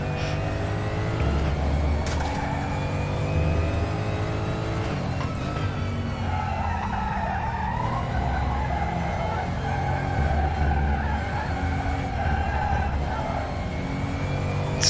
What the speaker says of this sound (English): So much tyre squeal.